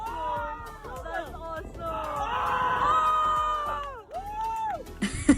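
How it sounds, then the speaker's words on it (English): Excited tourists on a whale-watching trip off Maui shout and cheer in bursts, voices overlapping loudly and close by, with whoops and high-pitched exclamations rising and falling. "we yelled at every single whale sighting"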